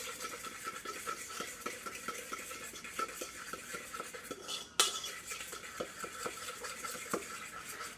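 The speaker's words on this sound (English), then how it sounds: "So I'm going to mix this up really well." A utensil stirs water into a Neat meat substitute paste in a bowl. It makes a steady run of soft scraping and clicking, with one sharper knock near the middle. The sound is close and continuous and nobody speaks.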